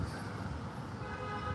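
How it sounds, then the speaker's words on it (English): Car horn honking amid New York City street traffic, a short toot sounding over a steady roadway rumble of passing vehicles, heard at a moderate distance. "Here goes the car horn again."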